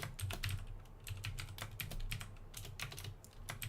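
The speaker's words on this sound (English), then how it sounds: "Ooh, can't type today." Steady computer-keyboard typing with quick, irregular key clicks running without a break, close and fairly quiet, during an Unreal Engine C++ coding session. A low hum sits underneath and nobody speaks.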